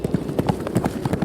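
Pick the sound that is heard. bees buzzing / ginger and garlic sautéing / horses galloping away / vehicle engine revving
horses galloping away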